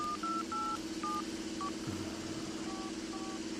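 A cell phone is dialed with a quick run of short keypad tones at an irregular pace, over a steady low hum.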